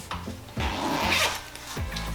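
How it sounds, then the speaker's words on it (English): Zipper pulled down along the side of a Baby Delight Beside Me Dreamer bassinet and bedside sleeper, with a few short zipping strokes, close and fairly loud, with no one speaking. "You zip them down."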